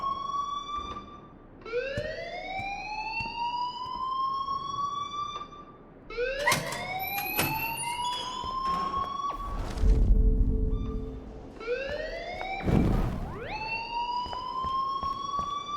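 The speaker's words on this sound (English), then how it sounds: "please turn off that alarm since that's your job" An alarm siren in Life is Strange wails in repeated rising sweeps, loud and close, cycling several times with a brief low rumble between sweeps.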